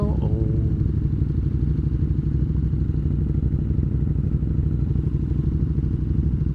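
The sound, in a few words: motorcycle engine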